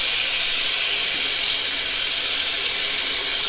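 Water runs steadily from a tap into a sink while the face is wetted between passes of a wet shave, a loud, close, continuous hiss with no pauses and no talking.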